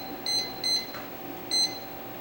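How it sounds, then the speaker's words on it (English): A kitchen timer gives three short, clear electronic beeps, close and loud, with brief gaps between them as its buttons are pressed to set it for twenty minutes while a lemon-square batch bakes in the oven. "I need to set my timer for 20 minutes."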